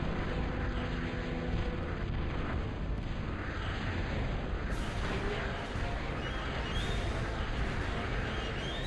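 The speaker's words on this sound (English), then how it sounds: "Someone shoot down these planes, please" Aircraft roaring overhead in the real-time strategy game Total Annihilation: The Core Contingency, a dense continuous engine rumble mixed with bursts and explosion-like booms, loud and sustained.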